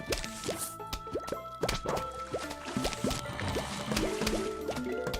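Plants set into water in the Plants vs. Zombies video game make a quick series of bubbly plops and watery blips, rapid and rhythmic, layered over faint game music with bright chiming notes.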